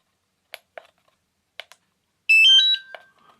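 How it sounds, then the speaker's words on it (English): Phone message notification alerts sound in a sharp burst of bright, layered electronic chimes and tones lasting about a second, preceded by a few soft clicks from handling a DJI Neo drone controller. "I've got messages coming in on this phone"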